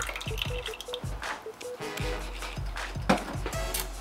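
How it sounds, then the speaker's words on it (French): Cream poured into a saucepan for French toast, a series of soft liquid drips and splashes with light clinks, close by and moderately quiet, no voices. "Une fois que ça commence à être dissous, on vient ajouter la crème."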